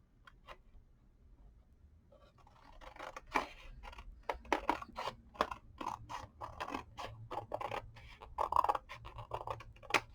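Scissors snip a paper strip for bead making: a quick run of close, crisp cuts that start after a quiet pause and continue in a steady, irregular rhythm.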